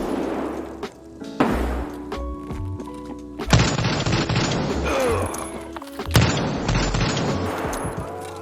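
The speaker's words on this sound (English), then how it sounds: "There was a guy shooting me from behind too." Gunfire in a video game shooter: repeated bursts of shots and booms, loud and near, coming in clustered volleys with brief pauses between them.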